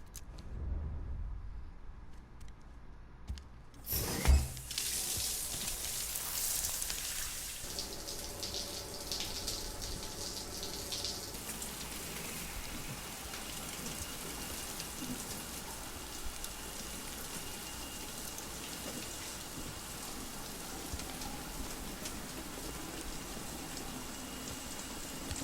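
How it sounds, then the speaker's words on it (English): A shower runs in Death Stranding: a steady broad hiss of falling water starts after a few seconds of near quiet with a brief clunk, then continues evenly and softly to the end, with no voices. "Let's take a shower."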